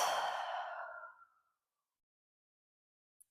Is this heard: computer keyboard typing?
no